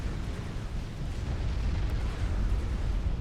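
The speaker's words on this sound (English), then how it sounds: "Looks like a violent explosion, but the AoE is actually pretty ineffectual." A violent in-game explosion in the strategy game Supreme Commander rumbles as a dense, continuous roar with heavy low booming, sustained without pause or speech.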